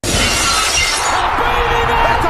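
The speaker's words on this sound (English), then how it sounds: "Speaking of glass smashing." Glass shatters loudly and up close as a crash effect, a dense burst of breaking shards and tinkling debris that rings on steadily for a couple of seconds without any voices.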